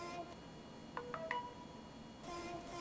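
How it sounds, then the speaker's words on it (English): An Anova Nano sous vide cooker sounding its target temperature tone: a short sequence of three quick electronic beeps stepping upward, clear over a low background hiss, with no talk. "you get a target tone."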